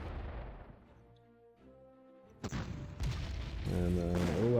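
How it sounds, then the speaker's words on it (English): Artillery bombardment in the strategy game Panzer Corps thunders in with a sudden loud boom and a burst of firing, following quieter game music and sounds, no speech over it. "Let's bombard this."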